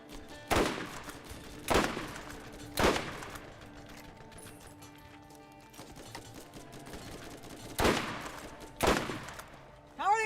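Gunfire in the Borderlands video game rings out in about six sharp, loud shots, clustered in two groups with a quieter stretch of game ambience between them.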